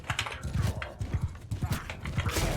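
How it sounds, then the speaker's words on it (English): A horse gallops into looters in Mount & Blade II: Bannerlord, its rapid clip-clopping hoofbeats drumming in a steady rhythm at moderate volume, with faint game noise behind. "now I am going to charge my horse into those looters"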